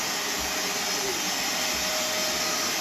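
Electric kitchen mixer whirring steadily while chocolate muffin and fudge cookie batter is mixed, a constant motor drone with no pauses.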